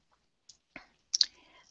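A computer mouse double-clicks in Excel: two quick, crisp clicks close together, preceded by a couple of fainter isolated clicks, in an otherwise quiet room.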